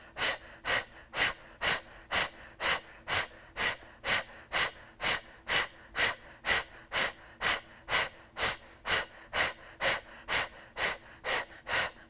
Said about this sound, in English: exhale, start pumping the stomach out through the mouth, exhaling forcefully, getting all the air out on each exhale